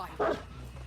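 A hound in the Dead by Daylight video game gives a single short, fairly loud bark over a low steady game background.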